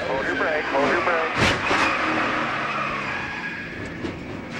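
Clint Bowyer's NASCAR Busch Series car at the 2006 CarQuest 300 rises on throttle and spins, a loud roaring engine over steady track noise, with a commentator talking over it.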